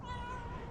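A stray cat gives one short, clear meow, close by and fairly loud, with faint outdoor background.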